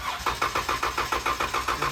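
A Jeep 3.6 Pentastar V6 cranking with the accelerator pedal floored: a steady, rhythmic starter churn of about ten even pulses, loud and close, with no catch or start.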